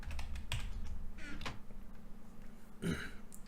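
Someone types a password on a computer keyboard in scattered soft key taps, with a few louder clacks and a low throaty grunt or cough over a steady background hum.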